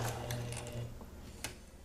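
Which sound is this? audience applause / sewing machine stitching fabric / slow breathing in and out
sewing machine stitching fabric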